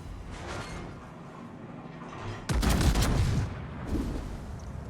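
Naval guns firing in a ship-combat game: a low rumbling bed of distant gunfire, then a loud burst of heavy artillery blasts from about halfway through, with further booming shots trailing off toward the end.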